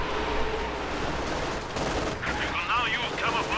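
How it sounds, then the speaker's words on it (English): A Katyusha rocket barrage in Company of Heroes 2 during a muddy 4v4 match, with rapid overlapping bursts of launches and gunfire and whooshing rockets, a dense chaotic battle din. "so here comes Katusha Barrage."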